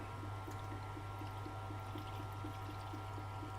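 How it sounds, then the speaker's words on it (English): Water is poured onto the stone of a running sharpening machine, giving a steady pouring trickle over a constant low motor hum, with no talk and no break. "and pour water in"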